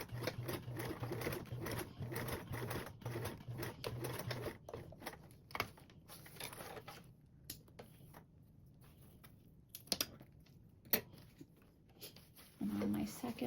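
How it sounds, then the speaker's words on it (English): A sewing machine stitches rows on a convertible duffle bag, running in bursts of rapid mechanical whirring and clatter with pauses, close by, with a person talking over parts of it. "we're going to sew 2 rows of stitches"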